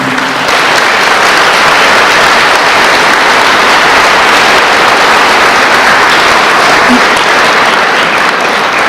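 Sustained, loud audience applause fills a hall of fame induction ceremony as a nominee from the class of 1970 is congratulated, a dense wall of clapping with no pause.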